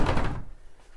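A hidden door into the Blind Pig, a speakeasy bourbon bar in Joe Hayhoe's Urbandale home, gives a single close, dull thunk as it swings open, then the sound fades into quiet room tone.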